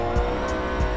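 A race car in the Forza video game, driven with a direct drive wheel, brakes hard into a first corner, engine droning loudly with brief tire squeal bursts over about a second.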